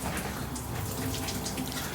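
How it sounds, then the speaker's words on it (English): Water from an outdoor shower on a Norwegian Encore cruise ship in Alaska pours in a steady, close, broadband hiss with no pauses. "So there's outdoor showers"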